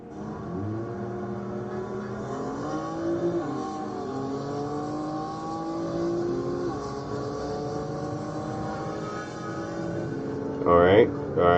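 Race car at high speed heard from inside the cabin, a loud engine whine rising and falling through gear changes over more than ten seconds, under a voice.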